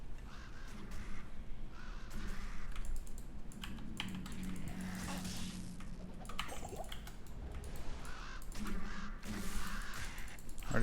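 Ravens caw intermittently in a video game, their harsh calls mixed into dense, continuous game noise alongside rapid keyboard typing and clicking throughout.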